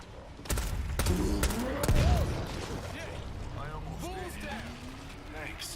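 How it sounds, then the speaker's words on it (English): Single sniper rifle shots in a video game ring out as sharp, loud cracks with thumping impacts, set among busy game noise and scattered effects while people talk over the action. "Yo, that freaking sniper rifle."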